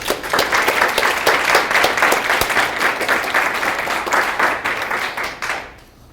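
An audience at a lecture on lost ancient literature from Herculaneum applauds steadily as the second speaker is welcomed. The dense clapping runs for about six seconds, then fades out at the end.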